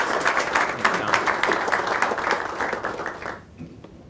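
An audience claps warmly to welcome a speaker, a dense burst of applause from a moderately sized crowd that fades out near the end.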